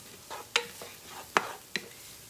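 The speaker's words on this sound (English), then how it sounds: "I'm gonna actually give this a quick little stir." Food being sautéed in a pan is given a quick stir, with three or four sharp scraping clinks of a utensil against the pan over a soft, steady background.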